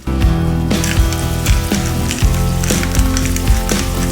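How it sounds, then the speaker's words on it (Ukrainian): Half a kilogram of minced meat fries in vegetable oil in a pan over medium heat, a loud, dense sizzle with crackling pops and periodic clattering stirs, heard close up with no voices. "Вливаю трохи рослинної олії і викладаю 500 грамів фаршу. Смажу на середньому вогні."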